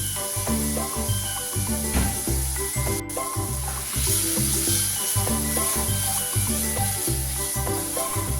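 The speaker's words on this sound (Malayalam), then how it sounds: "കരിഞ്ഞു പോവാത്ത രീതിയിൽ അത്യാവശ്യം നന്നായിട്ടൊന്ന് വഴറ്റിയെടുക്കുക" Tomatoes sautéing in a pan for fish curry, a loud continuous sizzle with rhythmic clinks and scrapes of stirring throughout.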